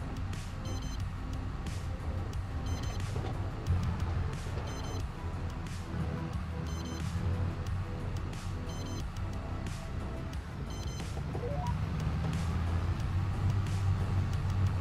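A vehicle's reversing beep in Farming Simulator 22 repeats at a steady, regular pace. The beeps sit over a constant low engine rumble that swells slightly toward the end.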